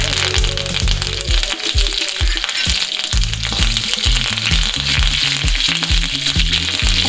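Dried red chillies and curry leaves sizzle loudly in hot coconut oil after mustard seeds have popped, a dense continuous crackle close by with a thumping rhythm running underneath, for a Kerala rasam tempering.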